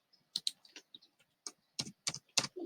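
Typing on a computer keyboard while pressing the tab key, a sparse run of quiet, crisp key clicks in irregular clusters, close by and alone.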